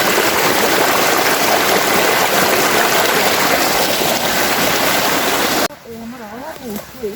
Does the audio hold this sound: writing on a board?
no